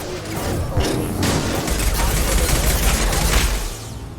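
Rapid weapon fire and mechanical clatter from a sci-fi shooter game, Mass Effect 2, on hardcore difficulty: dense bursts of gunshots with deep booms underneath, continuous and loud across the whole stretch.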